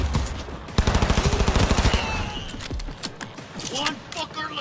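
Automatic gunfire in Cyberpunk 2077, a loud rapid burst of shots lasting about a second, then scattered clicks and mechanical sounds with a voice speaking.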